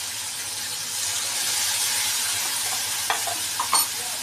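Ginger and green chilli paste, with a little turmeric, fries in hot oil in a pan, giving a steady loud sizzle and hiss with a few soft stirring clinks near the end and no talk.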